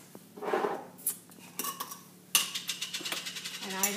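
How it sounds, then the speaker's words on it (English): A metal bread pan is locked into a bread machine and the lid is shut, giving a clatter and a sharp click followed by a quick series of ratcheting metallic clicks, close and fairly quiet. "So then I throw that in my bread machine, lock it in, shut the lid"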